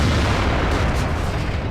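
Tank gunfire and shells bouncing off armor in World of Tanks: a dense, continuous rumble of low booms and blasts, loud and sustained without clear separation between individual shots.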